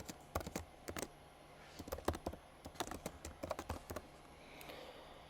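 A title being typed on a computer keyboard: quick bursts of sharp, close keystrokes in uneven clusters, pausing briefly between words, with a faint steady hum behind and no speech.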